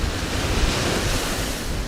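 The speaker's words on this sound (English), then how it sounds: "Yeah, the ocean." Ocean surf rolls in at the Myrtle Beach pier in South Carolina, making a continuous loud wash of waves with gusting wind buffeting the microphone and no one speaking.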